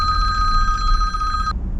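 A telephone rings in a trilling electronic tone over a low background rumble, loud and close, then cuts off abruptly near the end.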